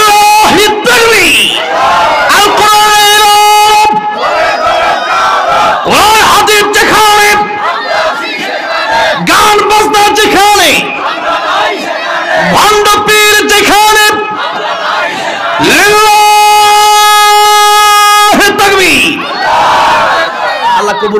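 A large crowd at a Bangladeshi Islamic religious gathering chants takbir in loud, repeated call-and-response bursts, massed voices swelling together in rhythmic waves and briefly dropping between shouts.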